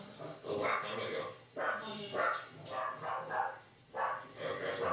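A police drug-detection dog at a traffic stop barks in several short bursts separated by brief pauses, moderately close, with voices mixed in.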